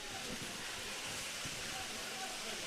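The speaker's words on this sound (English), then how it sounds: "Rain picking up again." Steady rain hisses over a Gaelic football pitch during a Donegal junior match, a dense even wash that holds throughout, with a sharp knock right at the end.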